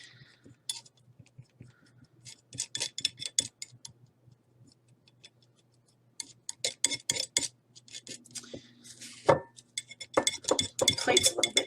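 Paint mixed and scraped on a dirty plate with a palette tool gives bursts of sharp clicking, tapping and scratching strokes in irregular clusters, close and fairly quiet, with a low hum underneath.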